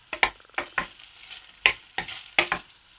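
Tofu stirred and turned in hot coconut oil in a pan, giving a steady close sizzle broken by several sharp scraping stirs at irregular intervals.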